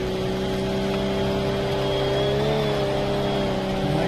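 A racing video game car engine drones loudly and steadily, with the pitch dipping briefly as the gear changes up to fourth; no voices.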